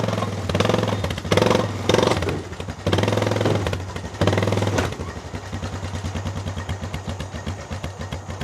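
Truck engine idling with a steady low clatter, preceded by several loud revs or surges, close and alone without talk.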